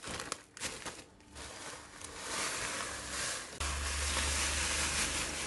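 Biscuits are crushed for a no-bake cake, giving a continuous close crackling and crinkling crunch with a hiss-like texture. It runs steadily and grows slightly denser partway through.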